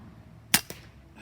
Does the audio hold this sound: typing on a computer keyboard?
no